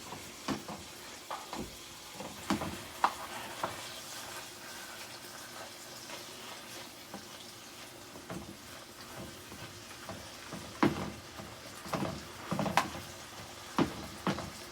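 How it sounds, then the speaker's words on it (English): Onions and carrots fry in beef fat from a lean cut, making a gentle steady sizzle broken by intermittent clinks and scraping stirs. "We're going to use that fat that's in it to fry our onions and carrots"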